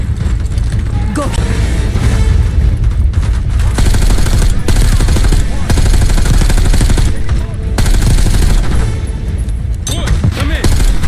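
Dense, loud gunfire in Call of Duty Black Ops 6, with continuous automatic bursts and scattered booms layered over voices and battle noise throughout.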